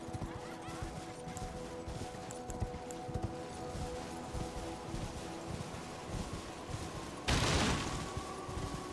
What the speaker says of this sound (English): Someone is shooting large projectiles at me